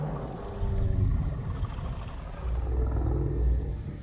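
Monstrous Godzilla Shogun roar, a 2014-style Godzilla bellow with a Zilla-style ending, heard as two long, deep, rumbling roaring swells that rise and fade, loud and alone.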